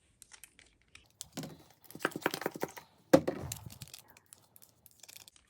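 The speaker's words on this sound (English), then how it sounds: "So I'm going to get mixing this up now." No-glue water slime made with soap gets stirred in a container: close, wet squelching and sticky clicking in uneven bursts, with a brief louder slap partway through and quiet pauses around it.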